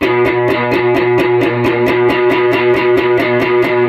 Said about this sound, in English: So you see here my middle finger is muting the A string